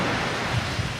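Rough, stormy sea surf churns in a continuous roar with gusting wind, a short burst of crashing waves building in a storm.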